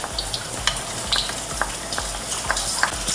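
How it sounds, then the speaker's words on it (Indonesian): Ice cream mixture with sweetened condensed milk, powdered milk and salt being stirred in a pot over a flame, a steady soft swishing with faint repeated scrapes and low knocks of the spoon against the pan. "diaduk sampai rata"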